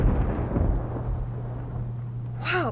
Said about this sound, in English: Whoa, that bolt of lightning was huge.